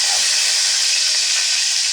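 Garlic hits a hot pan for a home-cooked breakfast, giving a loud, dense, continuous sizzle that stays steady and close throughout.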